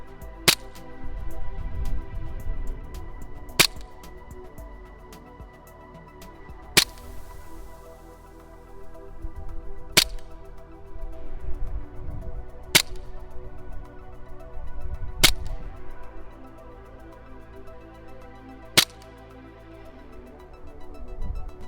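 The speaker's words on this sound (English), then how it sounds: "So shooting flat at the 60 metre target, they were landing at 55 metres." Sharp, sparse airsoft rifle shots, a B&T USW, fired at a 60 metre target outdoors, about seven crisp cracks spaced a few seconds apart over low wind and background rumble.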